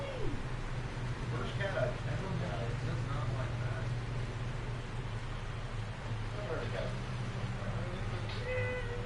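A male cat meows in protest while being laid on his side for belly grooming, several short, fairly close meows scattered over a steady low background hum.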